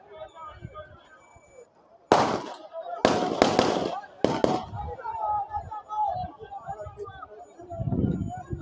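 Several sharp gunshot cracks from soldiers firing, some in quick pairs and clusters, loud against a background of crowd noise and talking voices.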